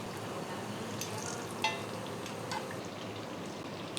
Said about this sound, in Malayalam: മീഡിയം ഫ്ലെയിമിലൊക്കെ ഇട്ടിട്ട് ഫ്രൈ ചെയ്താൽ മതി.